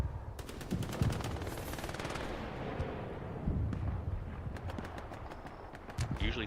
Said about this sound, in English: Pagey using the MG.